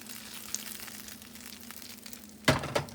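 French toast puffs frying in a pan: a low steady sizzle with scattered small crackles, then a sharp clatter and a second knock near the end, with no talk.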